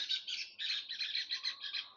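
A black bird resembling a crow gives a quick series of harsh, squawking calls, loud and close, in a steady rhythm of about eight bursts over two seconds.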